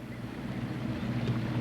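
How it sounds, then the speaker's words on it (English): A boat engine on a creek channel runs steadily and rises slightly in pitch and loudness, a low droning rumble mixed with wind noise across the microphone, no talk. "turned up the engine just a little bit."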